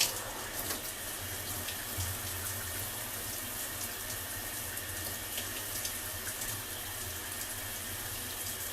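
Running water from a tap soaking hair during a wash day, a steady, even hiss and splash that continues without break and stays fairly quiet, with no talking.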